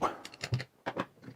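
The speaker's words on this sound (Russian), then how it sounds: "Берем ключик на 13 и откручиваем гайку, которая держит наш якорь в корпусе редуктора" A 13 mm wrench works loose a nut holding the armature in the gearbox housing of a Makita power tool, giving a quick run of close, hard metallic clicks and knocks.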